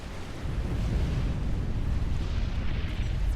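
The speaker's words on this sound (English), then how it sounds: "Here comes the inevitable explosion, and HotFog is gone." Explosion of a unit in the real-time strategy game Supreme Commander: a dense, sustained low rumble that swells after a quiet start and rolls on steadily for several seconds, with no talk.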